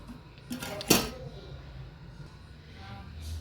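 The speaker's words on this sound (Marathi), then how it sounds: "तर चला भाजी झाकून ठेवते." A metal lid clanks onto a pot of cooking spiced aubergine curry, with one sharp clatter after a lighter touch, then quiet kitchen background.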